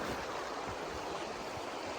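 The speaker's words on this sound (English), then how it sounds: "Check out this beautiful creek." Steady rushing flow of a creek in the New Mexico back country, a constant broadband wash of water with no talk.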